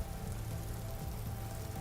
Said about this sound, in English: The weather is hail.